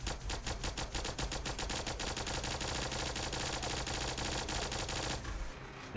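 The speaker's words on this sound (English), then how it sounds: "I like how sort of like the chain gun by CSEP team. It starts off slow and then starts building up." A chain gun from a Fallout 4 mod fires a dense, loud, continuous stream of rapid shots that stays steady for about five seconds and then cuts off abruptly, with no voices.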